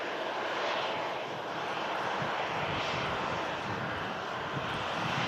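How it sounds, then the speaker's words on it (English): A Ryanair airliner taxiing in at Manchester Airport, its jet engines giving a loud, steady broadband roar that holds evenly throughout with no voices. "this Ryanair just taxiing in, arrived in from Milan after a flight of 1 hour"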